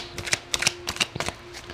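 Tarot cards drawn from a deck, a run of short crisp snaps and slides in quick irregular bursts, close and moderately soft over a faint steady hum.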